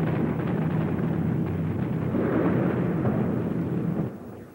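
Viet Minh anti-aircraft fire and explosions, a dense continuous roar of booming blasts and rumbling fire, loud and sustained before easing off at the end.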